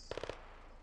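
A quick burst of four rapid gunshots from the neighbourhood combat game Operation: Neighborhood Watch, fairly distant and faint, followed by a short fading tail.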